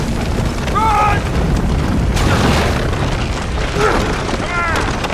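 Building collapsing with explosions in the Uncharted video game: a loud, sustained rumbling roar with booming bursts, and shouting voices over the din.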